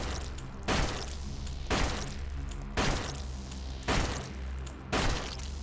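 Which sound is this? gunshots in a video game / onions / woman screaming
gunshots in a video game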